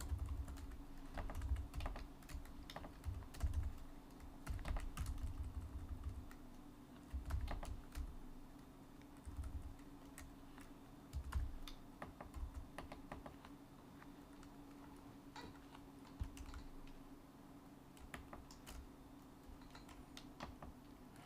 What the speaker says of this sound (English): I'm continuously pressing the wrong keys.